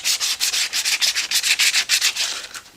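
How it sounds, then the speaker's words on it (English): Sandpaper rubbed hard back and forth across a notebook cover in quick, steady strokes, a close, bright scratchy rasp pulsing about five times a second with no voices. "You're going to take a piece of sandpaper and you're literally going to rub"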